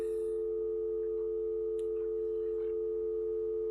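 A steady, continuous telephone dial tone hums alone on a call being placed to a broker, with a few faint clicks over it.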